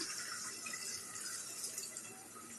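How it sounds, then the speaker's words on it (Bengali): Water poured steadily into a pot of potato, tomato and eggplant curry to make broth, a continuous close gushing splash with no talk over it. "ঝোল দিলাম।"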